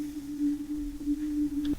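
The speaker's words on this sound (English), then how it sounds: "we have the Castle Wind preset, sounds something like this" Arturia Castle Wind synth preset holding a single sustained D note, a steady thin tone with faint airy texture, alone and ending abruptly just before two seconds.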